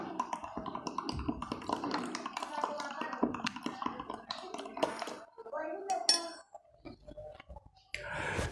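Spoon clinking and tapping inside a cup while stirring in a spoonful of moringa powder, a busy series of close metallic chinks and scrapes, with a voice speaking over part of it.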